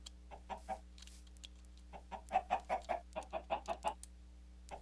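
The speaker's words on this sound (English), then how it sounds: "You're a rogue chicken anyway." Minecraft chicken clucking, a string of short soft clucks that grows into a quicker run of rhythmic clucks, fairly faint over a steady low hum.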